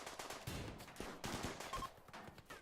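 Bursts of Browning machine gun fire in the colony game Rimworld, a few rapid rattling volleys at modest volume with brief gaps between them.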